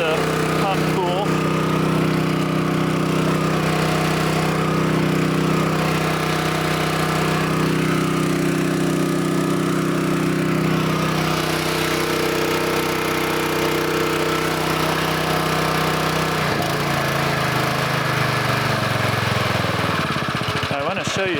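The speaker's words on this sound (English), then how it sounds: "Even with this pump at idle, I want to show you what it can do." A wildfire pump engine on a mobile attack unit idles steadily and loudly throughout, a continuous low droning hum with a slight shift in tone near the end, a voice faintly present under it.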